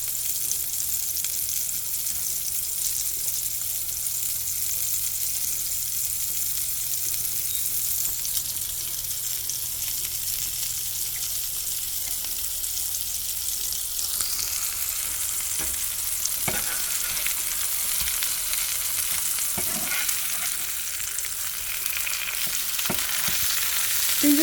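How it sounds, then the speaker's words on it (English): Bread toasting in a hot frying pan for a cheeseburger gives a loud, continuous sizzle with a bright hiss, plus occasional light scrapes and shifts as it is moved. "I'm gonna toast my bread."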